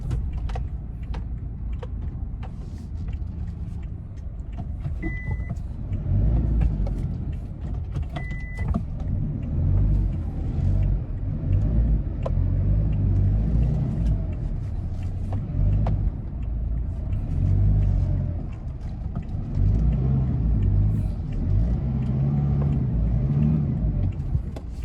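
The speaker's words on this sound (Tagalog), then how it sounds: "Pinasok talaga si super pick up dito." A pickup truck drives in with a steady, close, low engine rumble for about twenty-five seconds, broken by a couple of brief high whines and light clicks, with no voices.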